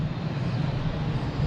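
A JetBlue airliner arriving from London Heathrow rumbles past at Boston Logan airport, a steady broad engine roar at moderate distance with no talking.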